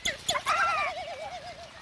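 Frigate birds in courtship display in the Galapagos, where males inflate their throat pouches, give a close, wavering, warbling call that undulates steadily after a few sharper opening notes.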